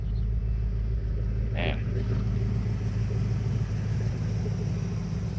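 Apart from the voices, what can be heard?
1988 Ford Mustang GT engine running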